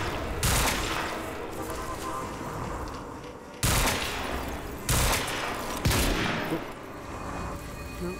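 Burst gun fire from the video game Quantum Break: loud, dense volleys of shots and echoing booms in several separate bursts, each sharp onset decaying into a continuous roar of gunfire.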